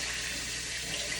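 Tap water runs steadily into a kitchen sink while hands are washed during pork chop cooking, a continuous broadband rush that stays close and even with no talk.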